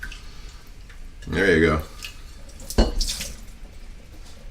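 Water running into a large food container to rinse it out, a short burst of splashing tap water near the mic, then a sharp knock as the container is handled, with a person speaking briefly.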